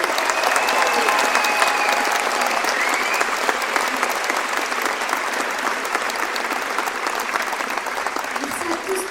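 Dense, sustained audience applause with some cheering fills the room at a New Year's greetings event in Belfort, a steady loud wash of clapping that tapers slightly near the end.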